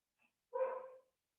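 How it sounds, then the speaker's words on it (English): A single excited dog gives one short, muffled bark, faint and somewhat distant, preceded by a tiny yip. "My dogs are very excited today."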